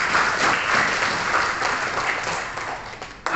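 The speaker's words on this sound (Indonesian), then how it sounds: "Kita beri aplaus untuk para peserta yang akan ikut." An audience at an educational competition event claps for the participants, a dense burst of applause that gradually thins before a short renewed flare at the end.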